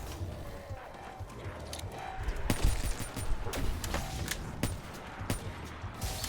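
Rapid weapon fire in Black Ops 3 Zombies on the Gorod Krovi map crackles as quick, uneven bursts of sharp reports over a low game-ambience bed, fairly quiet overall.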